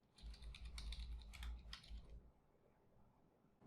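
A file name is typed on a computer keyboard: a quick, close run of crisp key clicks lasting about two seconds, then quiet.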